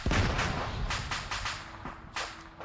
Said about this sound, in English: They just dropped a bomb